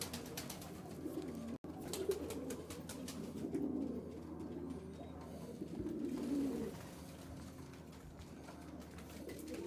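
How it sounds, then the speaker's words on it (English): Pigeons, including a small brown roller, coo softly in a low, throaty murmur that rises in a few swells over a steady background hum, with no talking. "I haven't checked on our pigeon friends in a while."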